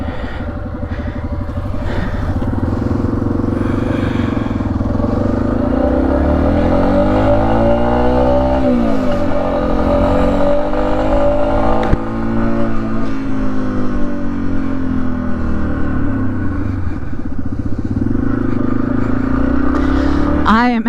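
Yamaha XT 250 dirt bike on a dirt trail, its single-cylinder engine loud and close, revving up and down with shifting pitch over twenty seconds, with occasional rattles and speech mixed in.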